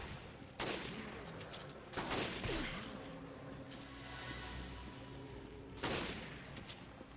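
Gunfire in Resident Evil: Revelations, heard as several separate loud bursts of shots spaced a few seconds apart, with quieter game ambience and shuffling between them.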